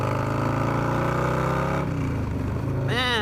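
Motorcycle fitted with an SP Concepts Lane Splitter exhaust revving loudly and steadily with a rich harmonic drone, then dropping off before a brief sharp rising rev at the end.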